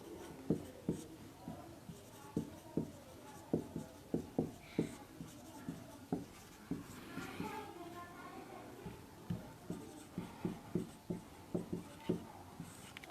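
A statement being written on a board during a surface chemistry lesson, with steady close tapping and scratching strokes throughout and a faint voice talking now and then.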